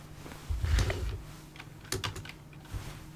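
Scattered keystrokes tap on a wireless computer keyboard nearby, a few irregular clicks and clusters over a few seconds with a low background hum.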